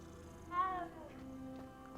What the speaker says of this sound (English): another cat. Let's pet it.